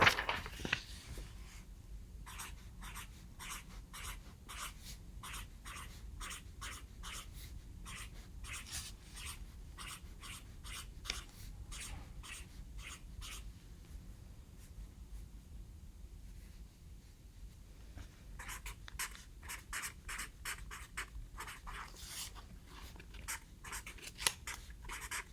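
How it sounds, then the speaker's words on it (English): Pencil scratching across paper in a steady run of short, rhythmic strokes while a picture is drawn and a math equation written, close and fairly quiet, with a few brief pauses and no talking. "Okay, so I drew my picture and I wrote my equation and I filled in my answer."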